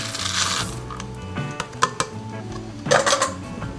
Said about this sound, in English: Now we're going to add the chocolate chips.